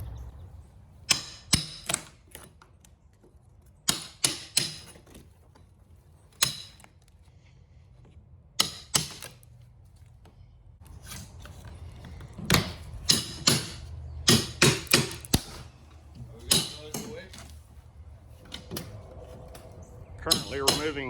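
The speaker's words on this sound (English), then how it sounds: "Currently removing all of the old trim of this porch." Old wooden trim pried and knocked off a screen porch during demolition, sharp irregular bangs and cracks, some in quick clusters, separated by quieter stretches of scraping and handling.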